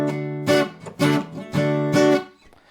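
A guitar chord fretted at the fifth fret of the fifth string, strummed four times in an even rhythm; each strum rings out clearly and close before fading, with no talking.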